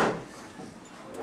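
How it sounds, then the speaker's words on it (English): A classroom door swinging shut, a single soft thud at the start followed by a brief fading rattle, moderately close in a quiet room with no talking. "Trent, will you close that door for me?"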